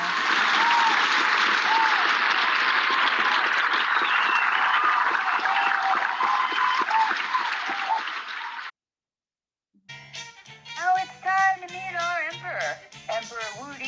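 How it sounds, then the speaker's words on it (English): Loud, sustained audience applause fills most of the clip, stops abruptly, and after a short silence a musical tune starts up. "Let's hear it for Hanfeza"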